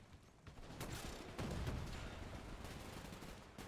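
Gunfire strikes a tank in the video game Men of War 2, faint rapid impacts and a dull rumbling barrage in a noisy battle scene, with no talk.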